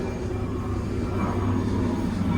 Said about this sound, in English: Got an airplane going over.